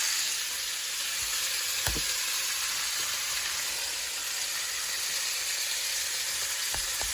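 Ground beef sizzles steadily in very hot oil in a pan, a close, even hiss with a few soft clinks from stirring and no talk.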